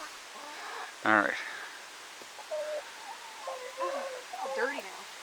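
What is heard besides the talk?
rooster named Goliath clucking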